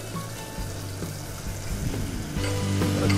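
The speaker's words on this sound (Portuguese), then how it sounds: "E agora vou começar a preparar a cebola" Chopped onion frying in olive oil in a pan, with a continuous crackling sizzle that builds toward the end, close up and alone.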